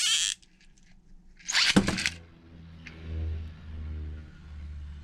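A Beyblade Burst spinning top from a Sparking random booster set snaps off the launcher with a loud rip, then settles into a steady low whirring hum as it spins, with a couple of faint ticks along the way.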